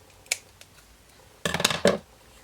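Scissors snipping through scrap paper during a craft project: a quick single snip followed by a short burst of several close, crisp cuts, clear and isolated in a quiet room.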